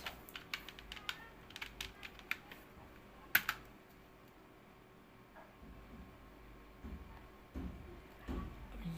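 Typing on a computer keyboard, with quick irregular clusters of light clicks and one sharper tap, close and fairly quiet over a steady low hum, with no voice.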